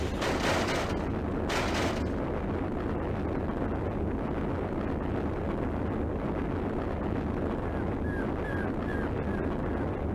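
Missile launch in the video game Sonic Adventure 2: a loud broadband roaring blast with two sharp bursts early on, then a sustained rumbling wash of noise continuing through, with faint electronic chirps near the end.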